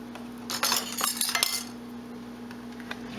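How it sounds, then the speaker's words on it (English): A giant spoon clinks and scrapes against a bowl of hearty lentil and barley soup in a short cluster of bright metallic taps and rattles, close and fairly loud, then quieter faint knocks, with a steady low hum beneath and no talking. "A giant spoon."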